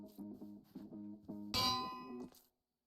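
A bell is placed and rung in a video game, ringing out as a series of bright metallic clangs with a sustained, shimmering tone, loudest in the middle strike and decaying to silence.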